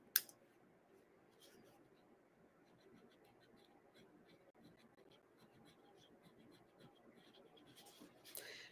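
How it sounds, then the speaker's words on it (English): A pen scratches out a name on a paper napkin, soft and close, with small intermittent scribbling strokes over a quiet room and a couple of sharp taps at the start and end. "Write your name."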